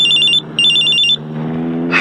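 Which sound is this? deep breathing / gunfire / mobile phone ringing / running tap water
mobile phone ringing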